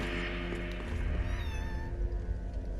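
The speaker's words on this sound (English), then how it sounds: "Yeah, my cat is right in front of me." A pet cat meows close by over steady game background sound and music, with several short tonal calls in the middle.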